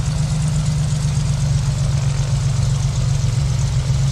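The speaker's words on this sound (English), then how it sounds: "It's a good engine start." A light aircraft's piston engine at high-altitude start-up in Microsoft Flight Simulator, settling into a steady, loud, low rumbling idle with a constant throb and no talking.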